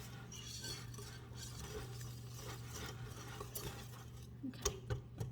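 Banana pancake batter is stirred in a bowl, a soft scraping and light clinking of utensil against the bowl over a low steady hum, with a few sharper clinks toward the end.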